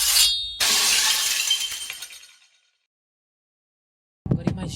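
A gem shatters in a bright glassy burst that rings out and fades over about two seconds, then silence, then a short new crackle of sound.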